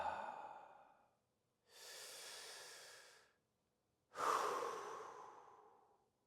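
Deep breathwork exhalations, three long, airy breaths separated by silent pauses, close to the microphone, the last one the strongest and most forceful.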